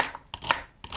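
A knife chops onion and celery on a cutting board, giving three or four crisp, close thuds in quick, uneven rhythm.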